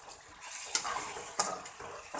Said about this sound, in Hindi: हल्का सा लगाऊंगी पानी का छींटा ताकि जो ड्राई मसाले डाले हैं इनके फ्लेवर इनहेंस हो